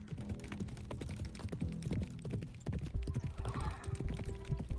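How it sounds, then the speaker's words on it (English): Rapid, rhythmic horse hoofbeats from a galloping mount in the video game Beyond Cloud Fall, racing along a mountain path; a quiet, steady clatter running throughout. "leaving only the rapid hoofbeats and my anxious heartbeat to fill the silence"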